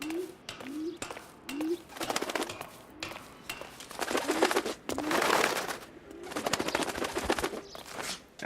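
Pigeons coo repeatedly in a city scene from the video game LA Noire Remaster, each low rising call recurring about once a second over a busy background of footsteps, rustling and other game noise.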